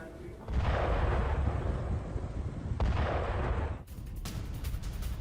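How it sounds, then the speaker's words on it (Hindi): Explosions from strikes in the Ahvaz area: two long, heavy booming rumbles, each lasting a couple of seconds, followed by a quieter, rougher stretch of distant noise. "जोरदार धमाकों से अहवाज इलाका दहल उठा।"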